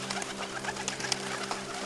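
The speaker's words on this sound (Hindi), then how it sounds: "तभी उधर ऊपर आसमान में कबूतरों का एक बड़ा समूह गुजर रहा था।" A flock of pigeons gives soft, overlapping coos against a steady background hum, with a few faint chirps mixed in.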